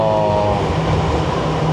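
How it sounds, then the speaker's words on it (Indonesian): A Jakarta MRT train starting to move on an elevated line, with a loud steady rumble and rising motor whine heard from inside the carriage, continuous throughout. "Ini akan jalan ya, teman-teman. Tuh, akan jalan ya. Ini MRT-nya."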